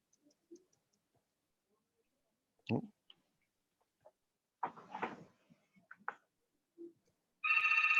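A telephone rings during an online class, a short burst of rapid electronic ringing near the end after scattered clicks and brief murmurs of people talking in the background.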